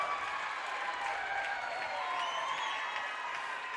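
A home crowd at a high school wrestling dual meet, Corry Beavers versus General McLane Lancers, cheers and claps after a pin in a gym, a steady wash of applause and shouts.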